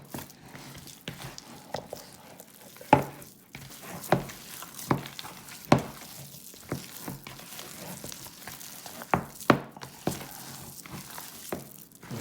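Raw meatloaf mixture kneaded and squeezed by hand in a bowl, giving soft wet squishing and slapping sounds with occasional sharper pats, close up and moderately quiet, with no talking.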